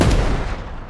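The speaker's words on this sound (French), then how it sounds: "Je peux tirer 1 balle par jour." A single sharp gunshot bursts out loud and close, then decays over about a second, standing alone with no talk over it.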